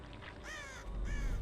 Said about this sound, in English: These crows just landed.